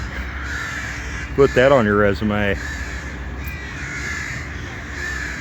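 Crows caw loudly in a quick run of harsh calls near the middle, over steady outdoor background noise, while someone talks briefly.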